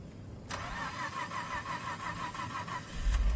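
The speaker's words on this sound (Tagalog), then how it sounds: "gusto ko i-start yung aking sasakyan. Sana umandar kasi malamig ang panahon." A car engine cranks and catches in freezing cold weather, starting abruptly after a quiet moment, then running at a rough, uneven idle that swells slightly near the end. No one speaks.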